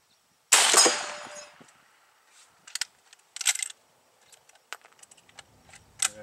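A single loud, sharp FN FAL (L1A1) rifle shot at an outdoor range, followed by a decaying tail and then scattered light clicks and metallic rattles of handling.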